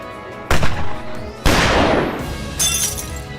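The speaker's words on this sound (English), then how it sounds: "Suddenly, the window shatters, and I see a hole in a picture on the wall." A gunshot in a dating-sim video game shatters a window, with a sharp crack followed by a loud spray of breaking glass. Tinkling debris trails off after it, then a brighter burst of glass follows, close and alone without talk.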